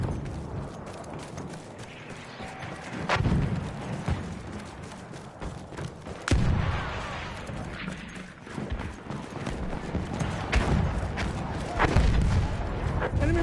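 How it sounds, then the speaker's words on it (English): Battlefield 1 battle din: dense, rolling gunfire and booming blasts, with sharp reports punctuating a continuous noisy background and faint game voices beneath. "Enemy machine gun over there."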